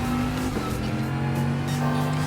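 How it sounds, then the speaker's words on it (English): Audi TT Cup race car in Gran Turismo Sport, a loud close engine roar with tonal drone shifting pitch, mixed with tire squeal and other cars around it. "Guess that Audi TT Cup car is definitely quite going in for it"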